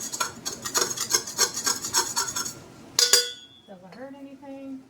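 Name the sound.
baking spatula scraping beeswax off a bowl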